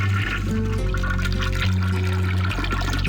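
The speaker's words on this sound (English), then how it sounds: "You flush the toilet." A toilet flushing in the point-and-click adventure game Ben Jordan: Paranormal Investigator, a loud, close whoosh of rushing water over steady low game tones, with no talking.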